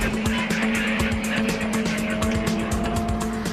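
A Stryker armored combat vehicle driving, a loud continuous engine and tire roar with rapid rhythmic rumbling throughout, close and steady, with no talking.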